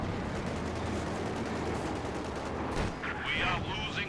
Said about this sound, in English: Pitman machine guns, Crackshot machine guns and Hull machine guns, all 3 there on each tank firing